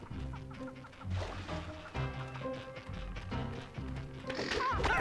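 Game birds in a Nicktoons video game (dodos) squawk and cluck in repeated bursts over a busy game music bed, fairly close and moderately loud, with a rising shrill call near the end.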